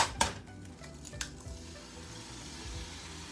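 Eggs hit a hot pan and fry, a couple of sharp taps and clinks up front followed by an even, steady sizzle with no voice.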